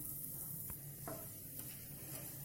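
Asafoetida sizzles in hot oil in a pan: a faint, steady fry hiss with a few soft clinks of a spoon or pan, no talk.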